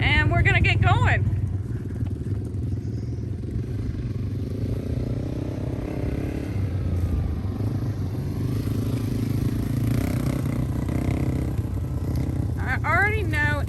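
A dirt bike engine droning steadily as a rider heads up a hill during an advanced riding lesson, running continuously under close talk, with brief revving whines at the start and end.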